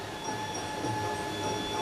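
Stage-play train sound effect standing in for a Mumbai to Pune rail journey, a brief, fairly faint steady rolling rumble with a few thin sustained tones, heard alone without speech.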